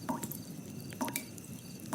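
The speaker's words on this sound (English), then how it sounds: "this time to a faint dripping sound" Water dripping from a bathroom faucet, soft regular plinks about once a second over a quiet background hiss, faint and alone.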